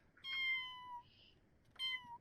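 A cat in The Sims 4 meows twice, short clear mews a second or so apart, quiet and close, with a faint higher chirp between them.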